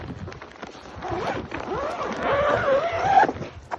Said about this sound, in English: We watched them load bodies and zip them into body bags.